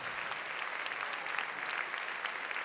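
Steady applause from the audience at an amateur ballroom dancing championship final, a dense continuous clatter of many hands clapping at once, fairly loud and sustained without pause, with no speech over it.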